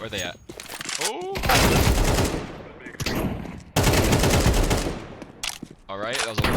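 Rapid automatic gunfire through a wall in Counter-Strike 2, loud sustained bursts with brief gaps between them, and a voice breaking in between the volleys.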